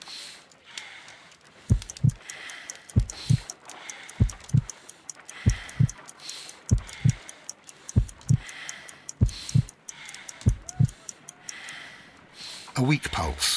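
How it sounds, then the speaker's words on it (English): Slow heartbeat in the Sherlock Holmes: Crimes and Punishments video game, paired thumps repeating at about 50 beats per minute, deep and prominent over a faint ticking, quiet background. "I need to concentrate and count the heartbeats."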